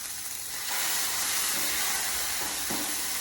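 Steak laid fat cap down and pork sizzle loudly on a griddle with avocado oil, a dense continuous hiss that swells sharply as the meat hits the hot surface.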